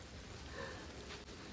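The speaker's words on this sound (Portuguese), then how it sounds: "Aumentou a chuva agora." Steady rain falls on a garden, an even, close hiss of drops with no voices.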